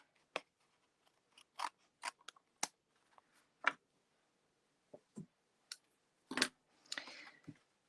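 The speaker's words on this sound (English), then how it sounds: "then we'll cut this little piece off here" Scissors cut a small piece of paper for a handmade stocking card. About a dozen close, crisp snips come at irregular intervals, with quiet gaps between them.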